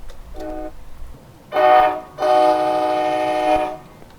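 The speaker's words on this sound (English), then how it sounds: "The horn doesn't sound terrible" An F40PHL-2 locomotive horn sounds in Train Simulator Classic on Miami commuter rail. One short faint toot comes first, then a loud brief blast, then a longer sustained chord under steady rail rumble.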